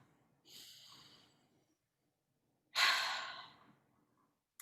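A deep breath taken during a guided mindfulness session for musicians: a soft inhale, a pause, then a louder, longer exhale close to the microphone, with no talk.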